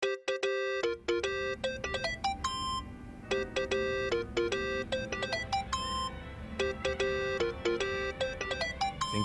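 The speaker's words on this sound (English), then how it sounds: "Think that's your phone, man." A phone ringtone in the Yakuza: Like A Dragon video game plays a bright repeating electronic melody in short patterned bursts over a low background hum, loud and close, with no speech.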